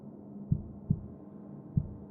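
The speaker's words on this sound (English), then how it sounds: "the greatest shock was feeling a heartbeat pulsating" Slow, muffled heartbeat thuds pulse against a low droning hum, four soft beats spaced unevenly across a short stretch, close and dull with no voices.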